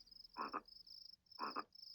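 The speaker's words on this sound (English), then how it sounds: "There's this frog here." Two paired croaks from a frog in the video game The Visitor sound about a second apart, clear and close over a steady high insect-like chirring backdrop.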